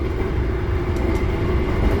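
A Sembrani express train runs between Pekalongan and Tegal with a steady, loud rumble of wheels and carriage noise heard from inside, continuous and without speech.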